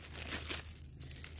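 Plastic bags being handled, including doubled bags used to store old trading cards, giving short crinkling and rustling bursts close by, louder in the first half then softer, with no talking.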